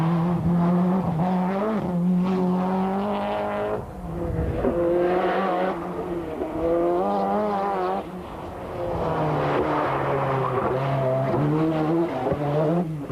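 A Peugeot 205 Group A rally car at the 1992 Donegal International Rally roars at full throttle, its engine note climbing and dropping through gear changes with tyre noise, loud and close for the whole stretch.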